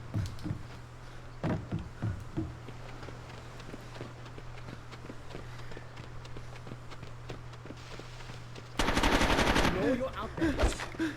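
Dual submachine guns fire in a video game: a long low mechanical drone with scattered shots early on, then a loud sustained burst of rapid automatic fire near the end.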